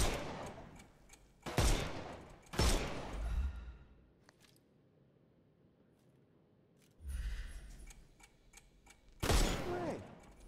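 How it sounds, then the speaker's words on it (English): Gunfire in a Sherlock Holmes video game, shooting armor off enemies: a few sharp, loud bursts spaced apart with quieter stretches of faint ticking and ambient game sound between them. "Shoot off their armor."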